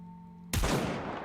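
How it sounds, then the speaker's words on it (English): A single sharp gunshot from the video game Goddess of Victory: NIKKE cracks loud and close after a steady low drone, then rings into a decaying noisy tail. "A single gunshot rings out"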